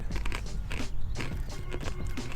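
Crunchy corn nuts being bitten and chewed right at the microphone, loud repeated crunches in an uneven chewing rhythm over a couple of seconds, with no talking.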